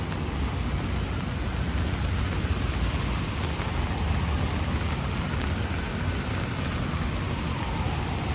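Heavy New Year's Day rainstorm in Manhattan, New York City, a steady, dense downpour hissing on surfaces throughout with no voices.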